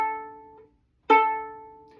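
The open A string of a violin sounds in two separate bowed strokes, each a bright sustained note that fades, with a short silence between them.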